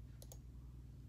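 Two quick, faint mouse clicks in close succession, selecting spots on a world map on the 23andMe website, over a low steady hum with no talking.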